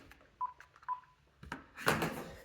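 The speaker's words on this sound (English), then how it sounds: "Let me get that phone." A telephone dialing tone sounds as two short, clear electronic beeps, followed by a louder burst of noise, heard faintly in a quiet room.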